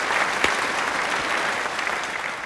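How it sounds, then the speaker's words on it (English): Steady applause from a crowd after a round of a Roblox Piggy game with 100 players, a dense even wash of clapping that stays at one level for the whole stretch with no voices over it. "Clap it up for me."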